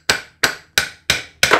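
Five sharp, evenly spaced hammer blows on a seized brake caliper piston from a Perodua Kenari (Daihatsu Move), each a loud metallic knock with a short ringing decay, close up with no talking.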